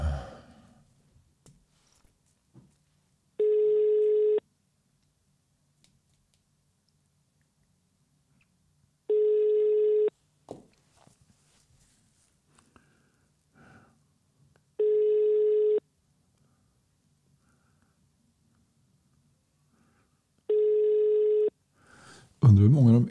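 A telephone line tone rings while a helpline is being called, four steady, evenly spaced tone bursts of about a second each separated by long quiet gaps, with faint sighs and brief speech at the edges.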